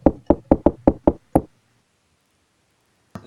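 A rapid series of knocks tapped in a Morse code pattern inside a video game: seven sharp, close raps in quick uneven rhythm, then silence before a faint sound at the end.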